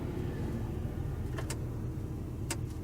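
A pickup truck pulling a boat trailer in towing mode drones steadily at low pitch as it sets off, with a couple of faint clicks over the constant engine rumble.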